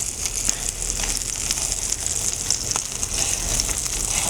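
Hamburger patty frying in a pan, a steady dense sizzle with scattered small crackles and pops, fairly loud and close, continuing unbroken with no voices.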